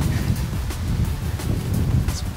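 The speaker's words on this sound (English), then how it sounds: "We even got a good wind." Strong wind blows outdoors at an archery range, a loud, continuous low rumble of gusts buffeting the microphone, with no other distinct sounds.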